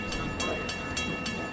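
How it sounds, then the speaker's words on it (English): Train sounds rolling steadily with a repeating rhythmic clatter every few tenths of a second, moderately loud and continuous, with no clear horn blast standing out. "It's a train signal. It's gonna be loud."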